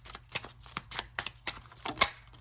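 Tarot cards being handled and shuffled, a quick series of soft, crisp riffling taps and flicks in an uneven rhythm, close and fairly quiet, with no talking.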